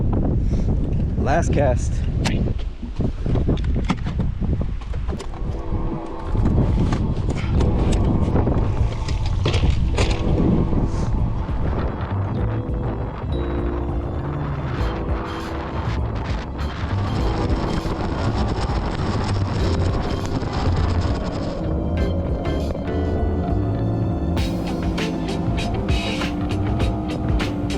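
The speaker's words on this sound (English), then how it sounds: "It is really blowing." Strong wind roars steadily across a fishing boat on the Chowan River, with constant loud buffeting and engine hum throughout while a person speaks briefly.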